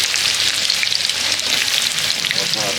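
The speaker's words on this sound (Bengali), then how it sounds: "এবার আমরা পেঁয়াজ দিচ্ছি।" Onions fry for a village-style chicken curry cooked on a clay stove, a loud, dense, steady hiss of oil sizzling up close throughout.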